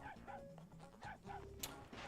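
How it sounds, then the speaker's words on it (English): A video game dog barks repeatedly in short, yapping bursts at a steady rhythm over background game music, fairly faint. "the dog stares at a wall and just barks uncontrollably"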